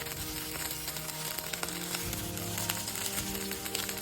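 Broccoli sizzling in extra virgin olive oil in a pan, a continuous close crackling hiss with scattered pops, steady throughout and heard without any talking.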